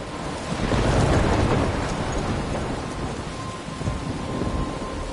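Thunderstorm in the video game Life is Strange, heavy continuous rain with a deep rolling thunder rumble swelling early and fading, loud and enveloping.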